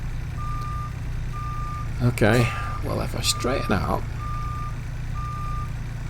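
A semi truck running a Cummins ISX15 600 engine in American Truck Simulator gives steady evenly spaced reversing beeps over a low engine rumble while someone talks.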